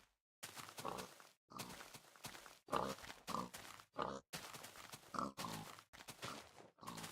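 Pigs in Minecraft grunt and oink repeatedly, in short close-up bursts separated by brief pauses, with no speech.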